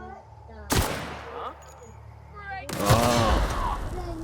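Two sharp, loud gunshot blasts in The Outer Worlds, each ringing out briefly, the second followed by a lingering rumble, with someone speaking between them.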